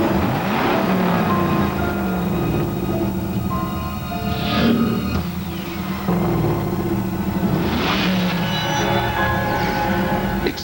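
A Pontiac Firebird Trans Am muscle car engine roars loud and close, with rising and falling revs and surges of acceleration over a continuous throaty rumble, and no voices.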